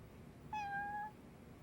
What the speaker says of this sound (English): Oh, a cat.